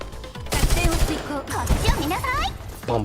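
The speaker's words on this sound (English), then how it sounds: "The most satisfying gun to listen to in this game." Rapid gunfire from a heavy-thumping gun in Girls Frontline 2, with dense bursts of shots and game effects continuing throughout at close range.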